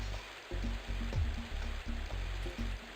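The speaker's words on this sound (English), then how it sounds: "The waterfall turned out to be impassable." Rushing waterfall in the Freddi Fish underwater adventure game, a steady broadband wash of falling water that holds throughout with small surges, moderately loud and alone.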